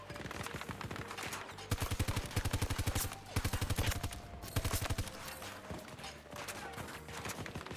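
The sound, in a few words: gunfire in the video game Battlefield 2042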